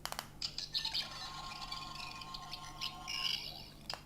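A 13th Doctor sonic screwdriver toy plays its electronic diagnostic effect, a warbling, chirping synthetic tone with clicks that lasts several seconds at moderate level.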